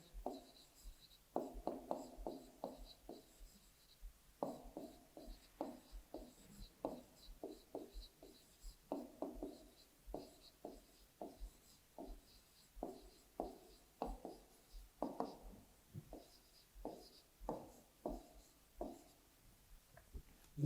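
Pen or pencil writing out a maths problem, soft scratchy strokes in short bursts and pauses, close and quiet with no talk.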